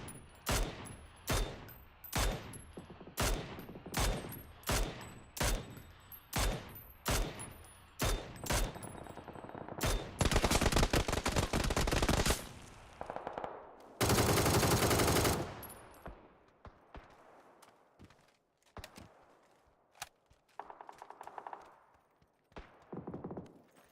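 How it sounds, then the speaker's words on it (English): Mini-14 rifle fire in a video game, a run of evenly spaced single shots followed by sustained bursts of heavier gunfire and a loud roaring blast, then scattered fainter shots. "Three shots of the Mini 14."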